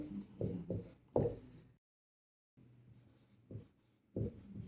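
Pen strokes scratch across paper while a maths problem is written out, in short bursts of scribbling with a clear silent pause in the middle, close and quiet.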